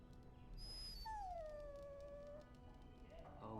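A dog whines in Dragon Age: Origins, a long falling high-pitched whimper rising over a steady game background, close and clear, with a short higher yip just before it.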